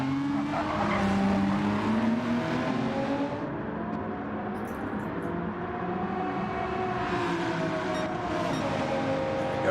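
Race cars lap Fuji Speedway in a racing video game, with a loud, continuous roar of engines rising and falling between gears and occasional tire squeal, with no voices.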